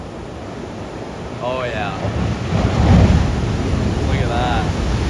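Large ocean waves crashing at Cabo, with a broad swelling surge of surf building near the middle amid steady wind noise on the microphone, while a voice speaks briefly over it.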